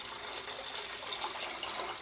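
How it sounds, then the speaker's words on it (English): Bay laurel liqueur (allorino) poured steadily into simple syrup, a continuous close liquid trickle with no pauses and no talking. "I am actually going to just pour out, look at this colour of this liquor"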